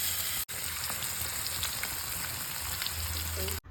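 Manthal fish frying in hot oil, a dense, bright, steady sizzle with crackles and a low hum underneath, briefly dropping out twice.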